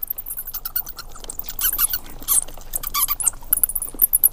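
A bat squeaks in a rapid series of sharp, high-pitched chirps, close and fairly loud, the calls bunching more densely in the second half with no talking.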